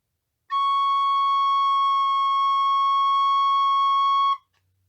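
A whistle with a paper tube fitted to it gives one steady, loud, pure tone held for about four seconds, then stops cleanly.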